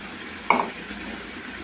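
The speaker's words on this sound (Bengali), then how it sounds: "তো খুব ভালোভাবে ভাজিটা উল্টিয়ে পাল্টিয়ে নেড়ে নেব।" Potato and pointed gourd bhaji with tomato and green chilli fries in a pan with a steady low sizzle, broken by one brief scrape of stirring, with no voices.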